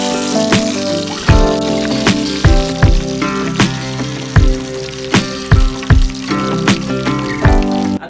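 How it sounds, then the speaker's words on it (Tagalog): A large tilapia frying in cooking oil, crackling and sizzling steadily, with sharp pops and spits bursting out roughly every half second. "At ipiprito lang po natin mga kagiliw itong ating tilapia."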